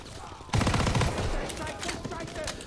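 Rapid gunfire from a World War II–era gun in Call of Duty WW2, a loud burst of dense shots starting abruptly and continuing with scattered in-game battle noise throughout.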